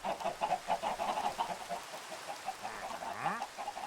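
Chickens cluck in the video game Infection War, a busy run of short, repeated clucks with a rising squawk near the end, steady and close throughout.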